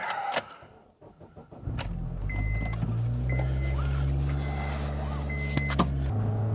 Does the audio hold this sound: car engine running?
yes